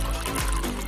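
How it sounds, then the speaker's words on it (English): Water pours steadily out of a large jug that has been swirled into a vortex, giving an even, full rushing flow without glugging. It is close and fairly loud, with faint bubbling sweeps through the short burst. "The vortex allows for the air to flow back into the bottle as the water pours out, much faster than the glugging alternative."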